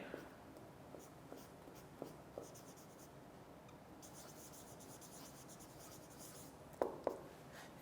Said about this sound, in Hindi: मैं बल्कि इधर लिख देता हूँ इसको